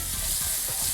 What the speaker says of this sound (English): We'll let this stir saute a little bit